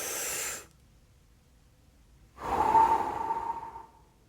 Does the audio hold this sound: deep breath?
yes